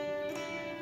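A single electric guitar note fretted at the 8th fret and held, ringing steadily and close with a clean sustained tone for under a second.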